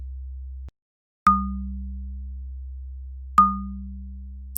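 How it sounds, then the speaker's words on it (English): Mallet-like synthesizer tone from a generative sequencer, two clean struck notes a couple of seconds apart, each with a bright attack and a long, slowly fading ring over a low sustained drone. "Sounds like a mallet."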